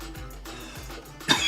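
A person coughs once or twice, a short throaty burst near the end that follows a quiet background.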